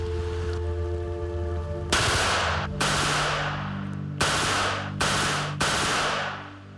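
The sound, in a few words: Czechoslovakian-made Scorpion machine pistol firing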